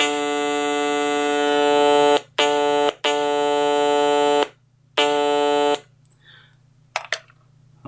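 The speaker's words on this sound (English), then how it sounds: "This is on the real Stylophone, and I'm just going to play. I'll play a D." Real Stylophone, a small stylus-played analogue synthesizer, sounding a D note as a bright buzzy reed-like tone in four separate held presses, the longest about a second and a half, alone over a faint low hum.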